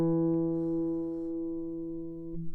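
Lone guitar note plucked on the D string at the 2nd fret, sustaining and gently decaying, close and clear, with a faint touch of string noise near the end.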